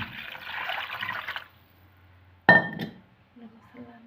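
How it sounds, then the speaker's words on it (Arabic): Water poured into a jar of homemade pickled turnips and carrots: a splashing pour, then a pause, a sharp glassy clink with a short burst of liquid, and faint low sounds at the end. "بعد كده نحط المية بتاعتنا اهي. المية بتاعتنا هنحطها هنا كده"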